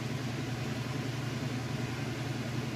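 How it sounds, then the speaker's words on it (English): A Whirlpool top-load washing machine on its final spin at full speed, with its lid switch bypassed, gives a steady, continuous low motor hum and whir that holds even and close without a break. "Alright, and it is on final spin. It's at full speed,"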